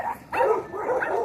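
Gigi the dog barks and yips in quick, close bursts outdoors in a yard, a few sharp barks running together.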